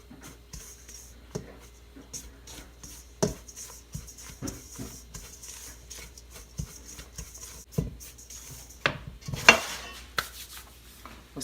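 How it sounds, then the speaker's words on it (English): Quiet scraping and tapping of a utensil in a bowl, mixing dry ingredients with almond flour for keto cornbread, irregular strokes and knocks with a slightly louder cluster near the end. "Now we get this all mixed up. Break up any lump"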